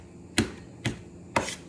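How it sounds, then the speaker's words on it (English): Garlic being chopped finely with a knife on a board: three crisp, evenly spaced chops, close and clear, with no talking. "So I'm gonna be doing this action, chopping it up fine"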